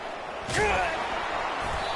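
Tackle hit in College Football 25 on the final play of the first half: a single sharp slam at about half a second in, with a broadcast commentator talking over crowd ambience.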